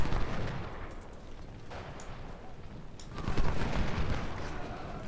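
Artillery and gunfire boom in the Ultimate General: Civil War battle game, a dense rolling barrage of heavy blasts and crackling shots with no clear pauses, loud and close.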